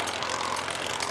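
Steady, broad roar of a Supermarine Spitfire TR9's piston engine and propeller, continuous and fairly loud, heard at an airshow display with no talk over it.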